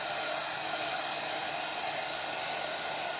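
A hair dryer blows steadily on painted glass for a glass-art Christmas tree decoration, a constant close whooshing airflow that holds the same level throughout with no talking.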